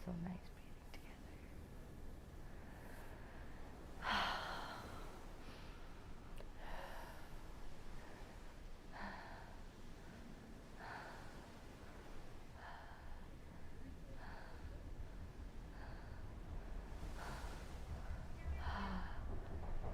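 Several people breathing together in slow, guided rhythm, with soft repeated inhale and exhale swells every couple of seconds, faint and close, with no talking.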